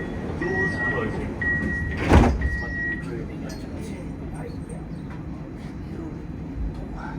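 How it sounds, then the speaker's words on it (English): Doors on a Parramatta Light Rail L4 tram slide shut with a single sharp thud after a repeating warning beep, heard from the driver's cab amid steady interior hum, with an automated announcement voice speaking. "Stand clear. Doors closing."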